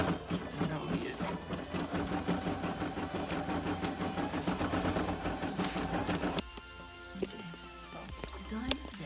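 A Brother PE 800 embroidery machine stitches a design onto a tee, a rapid, steady mechanical clatter running for about six seconds before dropping to a quieter whir with a few scattered clicks.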